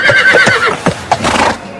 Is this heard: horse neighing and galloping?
yes